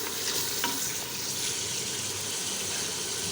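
Spices stir and fry in hot oil in a pan, with a continuous crackling sizzle and soft scraping, close and steady.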